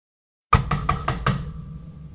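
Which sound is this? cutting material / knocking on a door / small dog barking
knocking on a door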